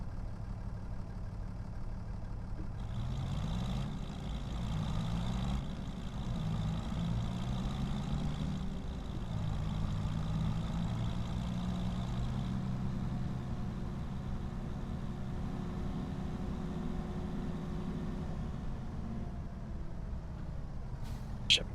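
A tractor engine in Farming Simulator 25 drones at a steady low idle throughout, with a brief rise and wavering pitch early on, while someone talks over it.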